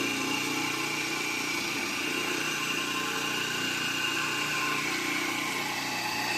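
A PMRV magnet rotor motor with sideways NSNS rotor magnets spins with no load, giving a steady, even whir with a constant hum and a high whine, close and unchanging throughout.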